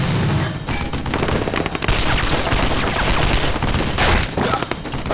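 Dense, loud gunfire from a dubbed action series fills the scene, with rapid bursts and volleys from several weapons overlapping almost without pause.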